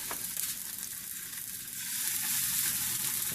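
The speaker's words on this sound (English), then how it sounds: "they're not going to take very long to fry at all" Unfloured buffalo chicken pieces frying in a hot pan, a dense, steady close sizzle that swells slightly louder toward the end, with no voices.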